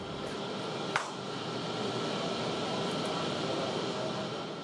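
An airplane flying steep dives for zero-gravity training gives off a steady, broad engine roar inside the cabin, with one sharp click near the start and no clear talk.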